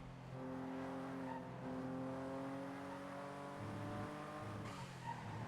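A white Porsche pulls out in a video game, its engine holding a steady, harmonic-rich drone that shifts pitch as it moves, with brief tire-scrub noises near the end; moderately faint and alone.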